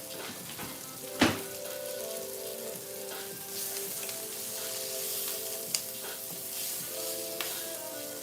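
Onion pieces frying in a hot pan give a steady close sizzle throughout, with one sharp clack near the start and a few light utensil clicks later on.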